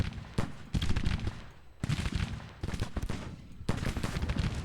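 Musket volleys crackle in a Civil War strategy game battle, several dense bursts of overlapping gunfire separated by short lulls, loud and sustained as the lines trade fire.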